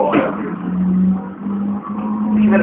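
Rally car engine in a racing video game, droning steadily at high revs with a sustained over-revving whine, fairly loud and continuous throughout, faint voices murmuring underneath.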